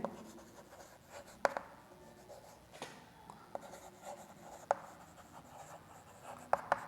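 A teacher writes out an answer by hand during a class 12 maths lesson, with scattered scratchy strokes and sharp taps at irregular intervals, close and fairly quiet, with no voice.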